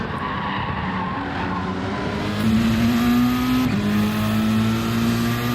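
Racing car engine in a Gran Turismo-style Group A video game race, droning steadily with a rising then dropping pitch as it runs through a tunnel, tyres scrubbing loudly, no voices.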